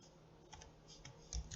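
Keystrokes on a computer keyboard sitting right in front of a microphone, a few soft, quiet clicks spread unevenly with a slightly firmer tap near the end, no talking.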